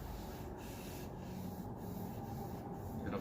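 Oil finish being rubbed across a solid wood cutting board, a soft continuous scrubbing and wiping texture with steady, gentle strokes, close and fairly quiet, with no talk.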